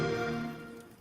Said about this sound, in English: Xbox sound.